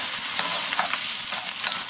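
Onion and garlic stir-fry in a wok for Vietnamese fried rice, a dense, loud, continuous sizzle with faint scraping accents and no voices.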